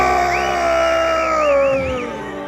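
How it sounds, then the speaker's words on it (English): Loud yelling and cheering from an excited voice, with a sustained whooping cry that rises and wavers over about two seconds, close and dominant. "He's gonna lose his voice with all that yelling"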